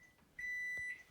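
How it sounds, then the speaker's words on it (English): A steady electronic alarm beep sounds in the background. It comes as one sustained high tone of about half a second, after a faint brief chirp, in an otherwise quiet room with no talk. "sorry for that alarm going off in the background"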